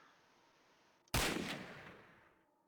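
A single loud gunshot in a video game bursts in abruptly after a stretch of quiet background hiss, its sharp crack trailing off into a decaying echo.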